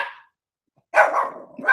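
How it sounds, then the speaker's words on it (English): A small dog named Twinkie barks indoors at someone passing outside, a single short sharp bark followed by a brief rough growl-like yap, close and fairly loud. "She thinks that she's a guard dog"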